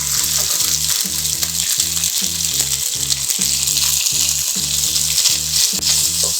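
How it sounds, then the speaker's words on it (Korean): Noodles stir-fry in shrimp-flavoured oil for pad thai, producing a loud, constant sizzle and crackle close up, broken by regular rhythmic scrapes and tosses of the utensil against the pan. "이 상태에서 이제 새우 기름이 좀 있는 상태에서 면을 넣어서 좀 볶도록 하겠습니다"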